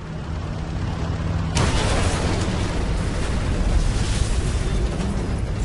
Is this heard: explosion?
yes